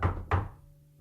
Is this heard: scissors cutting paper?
no